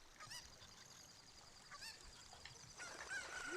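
A cucco chicken in the video game Ocarina of Time lets out agitated honking, squawking clucks in several bursts, heard faintly and close amid soft game sounds, with no talking.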